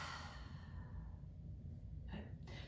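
A slow, deep exhale during a prenatal and postnatal yoga breathing exercise, a soft airy breath heard close and alone, with a brief fainter breath near the end.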